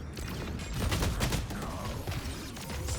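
Muffled video game gunfire rattles in a fast, continuous stream of shots at moderate distance, steady throughout with no clear pauses.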